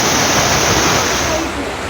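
Floodwater rushes down a street, a loud, steady broadband roar of torrential flow that holds continuously throughout and eases only slightly near the end.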